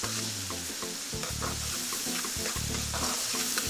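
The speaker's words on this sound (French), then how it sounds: "Et maintenant, je mets tous les ingrédients dans l'huile de palme." Ingredients frying in palm oil with garlic and coriander, a loud close sizzle running throughout, with low humming tones pulsing underneath.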